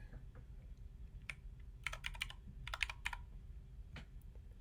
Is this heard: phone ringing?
no